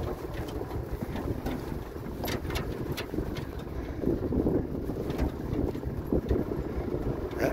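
Strong gusty wind buffeting the microphone at a paragliding site in the Baronnies, a steady loud rushing roar with heavier surges and no pauses throughout.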